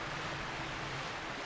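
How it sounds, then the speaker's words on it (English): Rushing water in a dungeon in the video game Twilight Princess, a dense, steady roar of flowing water that holds constant and loud throughout, with no speech. "we're just going to slide all the way down with the water flowing"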